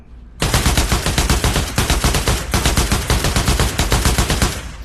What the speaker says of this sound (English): now we move on to our AR-15